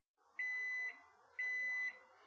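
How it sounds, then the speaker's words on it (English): Two long, steady electronic beeps from a microwave oven, each about half a second, evenly spaced and alone with no talking. "The microwave just beeped and I got a hot pocket in there."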